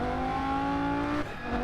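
Race car engine in the racing simulator Rennsport, a steady tonal drone holding near-constant revs with layered harmonics, close and loud, then dipping briefly near the end.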